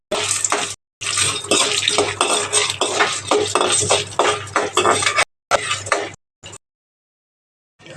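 Urad dal and two red chilies frying in two teaspoons of oil in a pan: a loud, steady sizzle with scraping and stirring clatter from a utensil, stopping briefly before resuming in shorter bursts and fading out.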